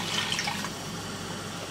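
Water poured into a cooking pot of fully melted hot ghee over a high flame, a steady close hiss and splashing rush that holds fairly even throughout.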